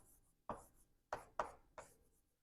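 Marker or chalk strokes jotting an equation on a board, four to five sharp scratchy taps and short strokes spaced irregularly, close and fairly quiet with no talking.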